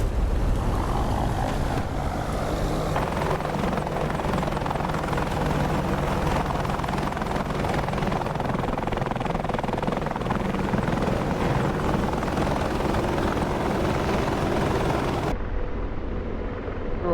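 An Apache attack helicopter in flight during a combat firefight, rotor and turbine roar dense and steady throughout, loud and continuous, then cutting off abruptly near the end.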